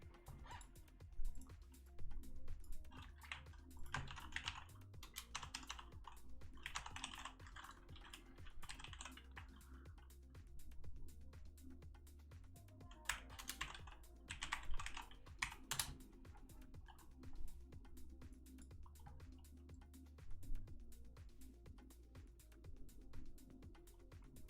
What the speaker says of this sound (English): Just let me type it in.